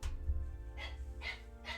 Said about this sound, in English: Just one noisy dog.